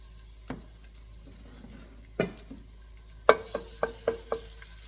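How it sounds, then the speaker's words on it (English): Ginger and garlic hitting hot oil in a wok, a low sizzle broken by a few sharp clatters and a quick series of five metallic taps near the end, close and clear with no talking. "I'm going to add this ginger and garlic in"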